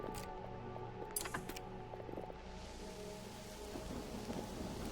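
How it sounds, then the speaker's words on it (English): Storm rain and thunder in the video game Mind Over Magic: steady rainfall hisses over low rumbling thunder, with a couple of sharp crackles early on and a droning musical background. "Hopefully the storm doesn't last long."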